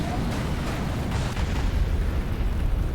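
Orbital bombardment strikes in Star Wars: Empire at War land on an enemy Zann Consortium base, giving a continuous roar of rumbling explosions and booms that stays loud and dense throughout.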